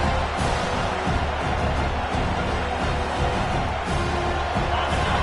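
Stadium crowd at a football game, a dense continuous roar of cheering voices filling the space, loud and sustained with no breaks.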